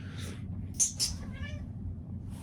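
A pet cat meows in two short close cries, then a softer drawn-out mew follows, over a low steady indoor rumble.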